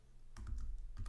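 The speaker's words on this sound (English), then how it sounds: "So once I start typing here," Quick keystrokes tap on a computer keyboard, a brief burst of several soft, close clicks with no voices.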